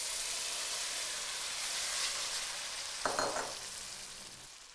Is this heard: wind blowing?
no